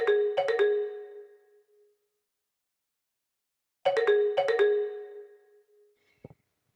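A phone rings out on an outgoing call: two ringback bursts of chimes separated by a long silence, ending in a short click, with no one talking.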